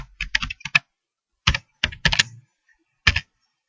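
Keyboard keys clacking in short bursts, several quick presses then isolated strokes including an Enter key, close and crisp with gaps of silence between clusters.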